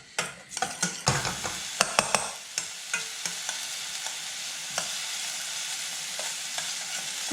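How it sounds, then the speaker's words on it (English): Half a large chopped onion frying in a pan, a steady loud sizzle broken by sharp clicks and scrapes of stirring, busier at first and then settling into an even hiss. "I've got half a large onion chopped up there. We're just going to fry those off to start with"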